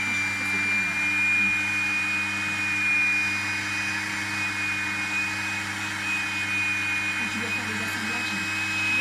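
Hair dryer blowing steadily on a clay pot to firm it up before trimming, a continuous close whirring hum with a constant high whine that holds unchanged for the full stretch, no pauses.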